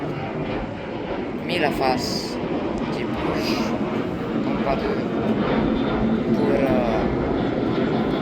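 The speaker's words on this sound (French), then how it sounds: "donc tous les 5 minutes il y a un avion qui passe" An airplane passes near Palermo airport, a loud continuous engine roar that swells and persists throughout, while someone talks over it.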